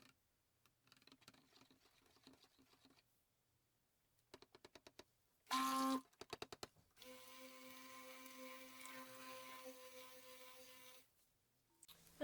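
A stick blender mixes cold process soap batter made with olive, avocado, argan and castor oils, shea butter and coconut milk: quick buzzing pulses, then a long, steady whirring run of about four seconds before it stops, with no talking.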